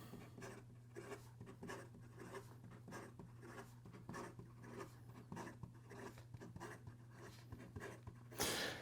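A Rockster Daydreamer pen writes fast across paper, with steady scratchy strokes repeating throughout, close up, over a low constant hum, ending in a brief louder rustle.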